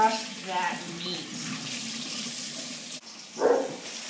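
Tap water running into a kitchen sink while corned beef is washed, a steady splashing stream with a short clatter partway through, moderately close, with faint voices around it.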